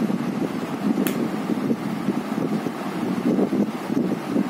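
A homemade DIY air conditioner blows a steady, breathy rush of air, close and continuous throughout, with a faint brief high whine near the start and no voices.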